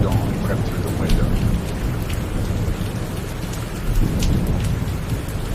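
Rain and a thunderstorm outside, a dense, steady hiss of falling rain with low rumbling beneath it and scattered drops tapping on a surface, loud and continuous.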